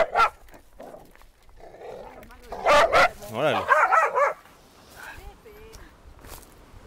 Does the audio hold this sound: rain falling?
no